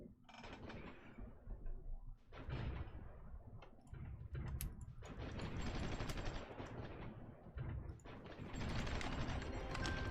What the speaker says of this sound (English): I'm going to tell the howitzers and the MLRS to just bombard that location